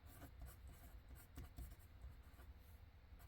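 Pen or pencil scratching across paper as something is written down by hand, quiet and close, with short repeated strokes.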